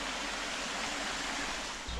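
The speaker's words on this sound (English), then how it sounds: "And the water coming down from the Pyrenees, I assume." Steady rushing water pours down from the Pyrenees beside a campsite washing-up area, a continuous close, full-bodied flow with no pauses throughout.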